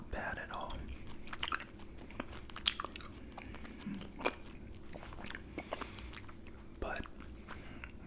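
Gum chewed close to the mic, with soft, moist smacks and small clicking bites repeating irregularly, quiet and intimate under faint whispered talk.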